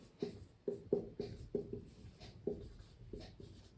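Pen or chalk strokes tap and scratch out a short math term in quick bursts, about ten close, distinct marks with brief pauses.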